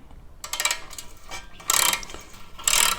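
A ratchet works a 10mm bolt on the exhaust heat shield of a Kawasaki Versys X300 motorcycle, giving bursts of rapid clicking in three close, loud runs separated by brief pauses, with no talk.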